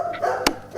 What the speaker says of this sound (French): Systématiquement, ce bruit faisait aboyer le chien.